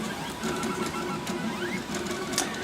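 A Geeetech Rostock 301 delta 3D printer hums and whirs steadily while printing, its stepper motors buzzing with small rising whines as the head moves, close and alone without talk.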